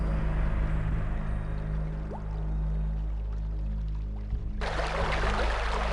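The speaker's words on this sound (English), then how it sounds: "Where's all this water coming from? It's all running into our storeroom." Water from an opened floodgate in the video game The Famous 5 runs with a low, steady flow, then suddenly bursts into a loud, broad rushing gush that continues to the end.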